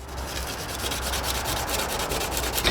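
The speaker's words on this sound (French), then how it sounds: "soit je ponce" Steady, continuous hand sanding of wood, a dry abrasive rubbing texture close by with an even level throughout and no voices.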